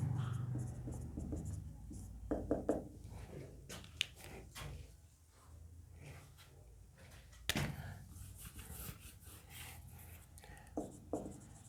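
A teacher writes notes during a physics class, probably chalk on a board: quiet scratching strokes and taps in irregular bursts with occasional sharper knocks, close by, with a little faint talk.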